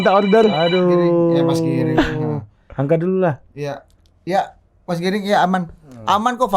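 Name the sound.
phone ringing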